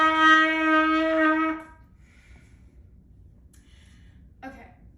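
A single sustained trumpet note F, bright and steady for about a second and a half before stopping, followed by quiet room noise and a faint breath.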